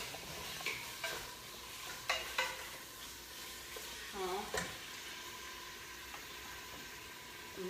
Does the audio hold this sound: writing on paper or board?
no